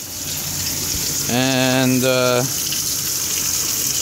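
Steady, close rushing of running water during an aquarium water change, with a brief harmonic whine rising over it for about a second.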